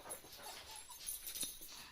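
Puppies whimpering softly, faint thin whines and yips scattered across two seconds.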